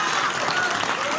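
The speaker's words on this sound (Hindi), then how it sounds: "जो बच्चे ताली बजा रहे हैं" Children in an audience clapping steadily, a dense, continuous patter of applause filling the whole moment at close range, with faint crowd murmur mixed in during a televised debate.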